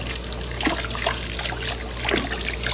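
Tap water trickling and splashing steadily while canning jar rings are washed in a kitchen sink, a continuous close dribble with small splatters throughout.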